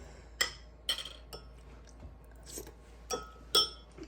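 A spoon clinks against a bowl of tomato soup in several sharp, separate taps with quiet gaps between, close and fairly faint, with no voices.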